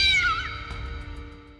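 A pet cat meows once in a drawn-out, falling cry, close and fairly loud, with a steady background tone behind it and no talk.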